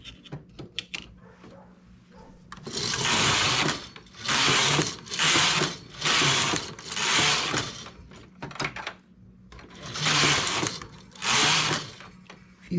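A knitting machine carriage is pushed back and forth across the needle bed, giving a series of loud whirring, clattering passes, each lasting about a second, separated by short pauses and small clicks.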